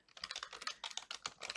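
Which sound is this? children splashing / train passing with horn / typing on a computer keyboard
typing on a computer keyboard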